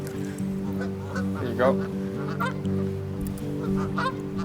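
Geese honk loudly and continuously nearby in a steady chorus of overlapping calls, with a baby duck among them and a person speaking briefly over the din outdoors.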